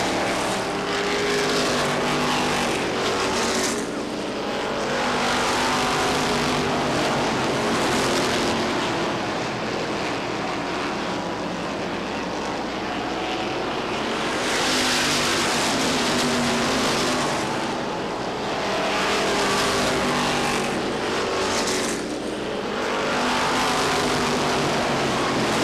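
Stock cars racing at Lee Speedway in heavy lap traffic, a loud continuous roar of many engines that swells and fades as packs of cars pass, with no speech over it.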